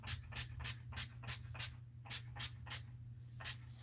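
A Nyx setting spray bottle fires about ten short, even hissing bursts in a quick regular rhythm, each spritz close and distinct over a low background hum.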